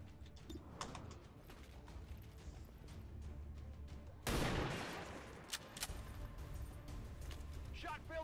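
A single loud gunshot cracks out midway through a quiet scene in the video game XCOM 2, rising sharply from low ambient background before fading back down.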